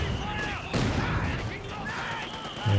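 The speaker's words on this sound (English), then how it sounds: "And there we go, mortar shells are flying" Mortar shells firing in Company of Heroes 2 during a large battle, with thumping launches and bursts over a constant din of gunfire and battlefield noise.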